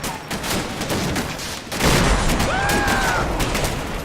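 Gunfire from German troops in the Combat Mission Battle for Normandy video game, dense rattling bursts of small-arms and machine-gun fire that swell louder midway, with a brief whistling tone overhead.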